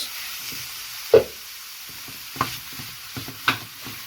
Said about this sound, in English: Now we're going to put our mince